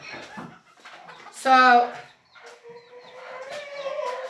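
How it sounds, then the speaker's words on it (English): A mother hen gives a loud, harmonic clucking burst near the middle, close to the microphone, with a person talking before and after it. "I have to move that mama hen."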